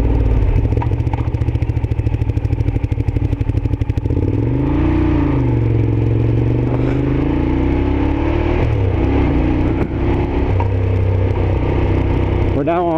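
Ducati Diavel motorcycle riding a twisty forest road, the engine revving and shifting as pitch rises and falls through bends, loud and close beneath wind rush, with a rider talking over it.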